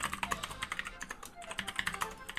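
Someone types quickly on a computer keyboard, with fast, uneven key clatter rising and falling in short bursts throughout.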